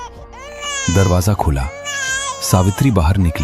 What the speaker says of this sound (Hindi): बस बच्चे की पहली रोने की आवाज गूंजी